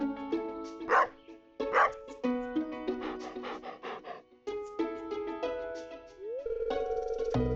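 Dog in the Stardew Valley Expanded video game making a few short yips and panting breaths amid bright, melodic game music.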